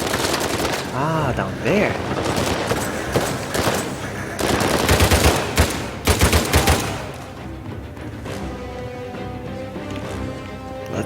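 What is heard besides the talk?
gunfire shooting at the player in Uncharted 4, video game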